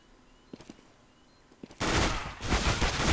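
P90 submachine gun fire in a Counter-Strike match on Inferno. A few quiet clicks and taps come first, then a loud, sustained burst of rapid automatic fire runs on with a brief dip in the middle.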